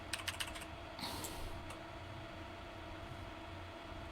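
A handful of quick keystrokes on a computer keyboard entering a four-digit PIN, faint clicks early on against a steady low room hum, followed by a slightly louder clack and brief rustle.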